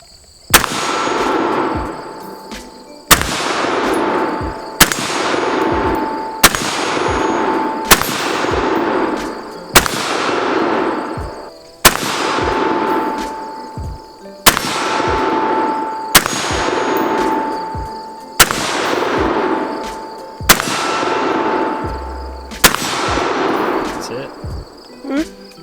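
A loud gun fires at an outdoor shooting range: about eleven sharp, widely spaced shots, each with a long ringing decay, while a faint steady hum runs underneath.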